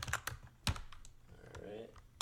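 Scattered keystrokes and backspace taps on a computer keyboard, sparse and fairly quiet, with a short stretch of faint background voice partway through.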